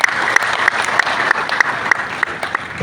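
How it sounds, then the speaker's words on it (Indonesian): A crowd claps for Victor Malenggang at a Nasdem party regional office in North Sulawesi, dense steady applause close by with a few sharper claps standing out, sustained throughout. "kita berikan aplaus untuk Victor Malenggang"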